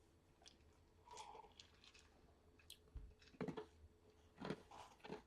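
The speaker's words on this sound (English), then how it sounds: "Man, now I'm all rude, chewing in y'all's ear" A person chewing food close to the microphone, soft wet crunches and bites coming in scattered bursts over a quiet background.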